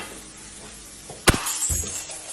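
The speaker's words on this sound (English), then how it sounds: "the glass suddenly shatters out of nowhere" A sudden sharp smash of glass shattering breaks out of a quiet, still room, followed by a brief tinkling trail of falling shards.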